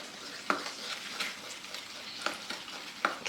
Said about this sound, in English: I'm going to try and mix this to get all these lumps out